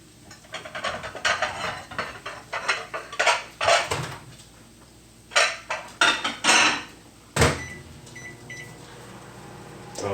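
Plates are taken out of a microwave and handled in a home kitchen, with a series of sharp ceramic clacks and clatters in uneven bursts over a steady appliance hum, and no talking.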